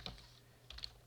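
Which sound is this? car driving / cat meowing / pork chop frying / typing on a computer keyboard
typing on a computer keyboard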